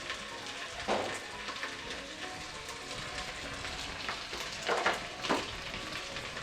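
Chopped coriander hits a hot pan of saffron pulao base, frying with a steady close sizzle broken by a few louder bursts of stirring, with no talking.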